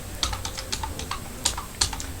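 Rapid typing on a computer keyboard while writing code in Visual Studio Code, a close, irregular patter of key clicks with a few sharper, louder strikes standing out.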